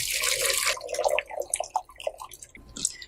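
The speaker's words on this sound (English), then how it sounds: "So I'm going to drain my water." Water draining from vegetables in a kitchen, a brief splashy pour at first that gives way to scattered drips and small trickles, faint and close.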